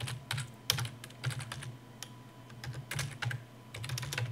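Rapid clicks on a computer keyboard while filling rows of a table in a word processor, with irregular bursts of keystrokes and brief pauses, including tab presses, close and clear with no talking.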